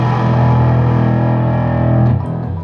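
Heavily distorted electric guitar through a NanoCab speaker cabinet, a loud sustained chord ringing for about two seconds, then fading as a new note begins.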